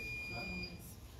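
A fire alarm sounds as a steady high electronic tone, heard indoors under people talking.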